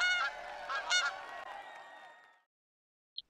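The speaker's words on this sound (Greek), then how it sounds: "οι χήνες άρχισαν να κακαρίζουν" Geese honking in a close, harmonic flurry of overlapping calls that fades out after about two seconds, followed by silence and one short faint blip.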